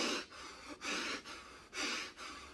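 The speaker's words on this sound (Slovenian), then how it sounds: "začni kaotično dihati" Chaotic breathing exercise with fast, forceful breaths, four loud, airy, close rushes of air in quick irregular succession, separated by brief pauses, with no talk.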